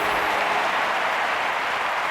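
A huge Olympic stadium crowd at the London 2012 Games cheers and roars wildly, a dense, loud, sustained wall of noise with no break.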